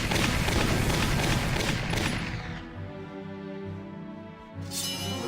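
Heavy gunfire and explosive blasts batter a tank in the Valkyria Chronicles battlefield, a dense roar of shots and booms for about two seconds that thins into lower rumbling and crackle before another burst at the end.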